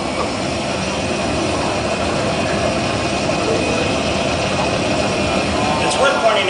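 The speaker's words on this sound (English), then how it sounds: "That's a Warthog." A Warthog vehicle in Halo Reach's Forge World drones with a steady, loud engine rumble that stays constant throughout without a break.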